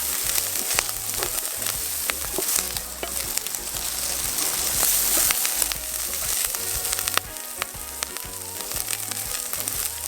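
Bacon frying in a pan over an outdoor cooking setup in Jamaica, a steady dense crackle and sizzle running the whole time at close range, with occasional sharper pops and stirring clinks and no talk.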